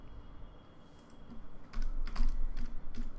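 Keystrokes on a computer keyboard while jQuery code is written, faint and sparse at first, then a burst of quicker, clustered clicks close by, with no voices.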